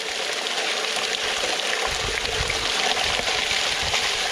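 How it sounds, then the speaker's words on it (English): Water pours steadily in a continuous rushing trickle into a bucket during gold panning, close and fairly loud, with a faint low gurgle beneath and no talk. "Pour it in. Some more water."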